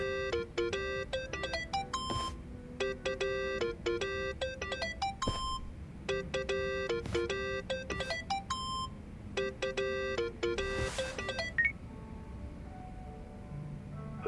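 A mobile phone ringtone in the video game Yakuza: Like a Dragon plays a repeating electronic melody of bright beeps in bursts, loud and close, with no talking.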